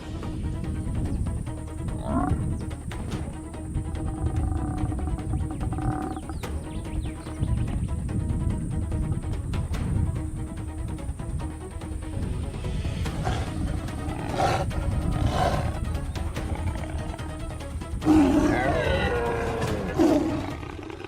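A lion attacks a kudu, giving low, rumbling growls and roars over a dense, continuous wildlife din with scuffling movement, loudest and most agitated toward the end.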